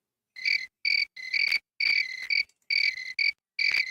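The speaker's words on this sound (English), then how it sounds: "I love that cricket sound." Crickets chirp in the Oregon Trail video game, a crisp, high-pitched trill in short bursts with brief pauses between them, clear and alone.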